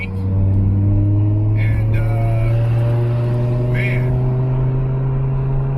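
A car cruises down Highway 1 away from Pebble Beach Car Week, its engine giving a steady, loud cabin drone with a low hum throughout and slight pitch shifts, while someone talks over it.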